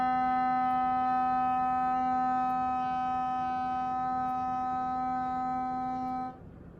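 Clarinet sustaining a steady note D, fingered with thumb, first and second finger, held as one long, even tone for about six seconds before stopping, played alone with no talk.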